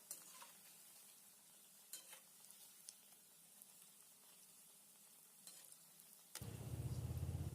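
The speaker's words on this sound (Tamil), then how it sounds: "இந்த மாதிரி போண்டா போடும்போது சிம்மில் வச்சு பொரிச்சு எடுத்துக்கோங்க" Keerai bonda fry in oil over a low flame, a steady soft sizzle with scattered crackles and light stirring clicks. A louder, denser frying hiss takes over near the end.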